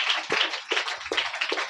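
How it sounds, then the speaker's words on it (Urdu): A church congregation claps together during a sermon, several loud ragged bursts of applause in quick succession with brief gaps between them, close and lively. "سلیمان کے لیے تالیاں بجائیں جی."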